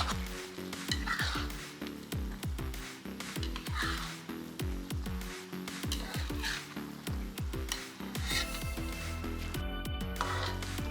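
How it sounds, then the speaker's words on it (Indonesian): Fried rice vermicelli with chicken and shrimp being stirred in a pan, with repeated scraping and clinking strokes in a steady rhythm over a continuous sizzle, close and moderately loud. "Kemudian aduk hingga bihun tercampur merata dengan bahan yang telah dimasak sebelumnya."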